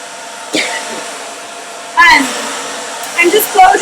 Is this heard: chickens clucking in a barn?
no